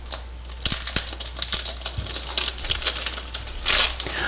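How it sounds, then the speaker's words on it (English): Protective film peeling off a large rugged tablet, the BlackView Active 10 Pro, heard as close, crisp crinkling and ripping crackles in irregular bursts, louder near the end, with no talk. "A very unsatisfying peel"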